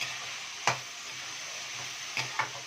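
A few sharp scrapes of a spoon stirring ivy gourd (dondakaya) fry with turmeric in a pan, spaced out over a steady low sizzle, close by with no talk.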